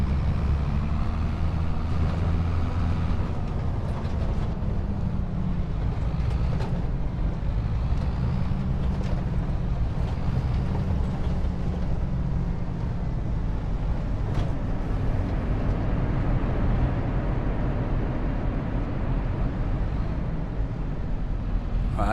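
A small but powerful Massey Ferguson tractor engine in Farming Simulator 25 rumbles continuously with a deep, steady drone and slight swells in pitch, loud and unbroken throughout with no talk.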